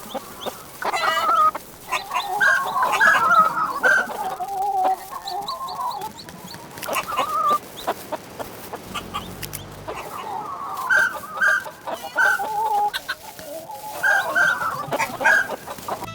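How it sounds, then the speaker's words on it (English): Chickens clucking on a chicken and wombat farm in the video game Dinkum, with repeated bursts of clucking and calls coming in two clusters, moderately loud and close, separated by a brief quieter stretch. "enjoy this brief clip of my chicken and wombat farm"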